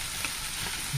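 Onion frying in low-fat butter in a pan, a steady soft sizzle that carries through the whole second with no talking.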